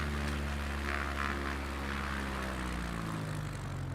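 A propeller airplane engine in Microsoft Flight Simulator 2020 drones steadily with a deep, constant hum and a smooth rushing wash over it, moderately quiet and unbroken, with no talking.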